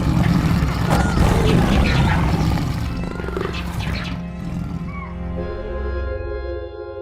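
An adult male lion, the big cat weighing up to 500 pounds, lets out a loud, sustained roar that swells and then tapers off, with a deep rumbling body and a low growling tail at the end.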